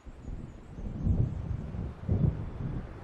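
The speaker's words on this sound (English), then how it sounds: "It seems there's a storm coming" Distant rumbles of thunder from an approaching storm in the game Alan Wake Remastered, two low rolling swells over a windy, hissing background, with no voices.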